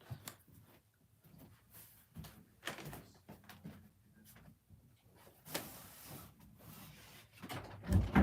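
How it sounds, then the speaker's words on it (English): A door pushed shut indoors, a short thump with a brief sliding scrape among low room noise and scattered small knocks. "Let me shut this door so y'all ain't got to hear them talking."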